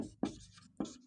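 A sentence is written by hand during a class, two quick pen strokes scratching faintly against paper in short bursts.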